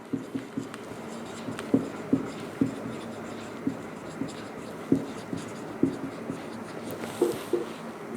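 Pen taps and scratches on paper come in irregular strokes, close and fairly faint, as numbers are written out during a GCD and LCM maths lesson.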